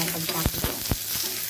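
Onions frying in a pan for a Vidarbha-style kathwada rassa masala, a steady close sizzle with a few soft clicks and taps of a spoon throughout.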